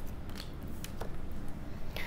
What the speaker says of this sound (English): Now you saw me shuffle, you saw them come out